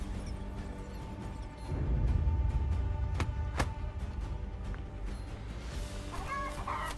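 A chicken clucks in the video game Achilles: Survivor, a few short clucks mixed with low rumbling game ambience, clicks and sharp interface taps, moderately faint.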